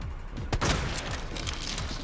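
Rapid gunfire from a weapon being emptied in the video game Resident Evil 2, a dense burst of loud overlapping shots with a sharp blast at the start and sustained crackle throughout, no talking.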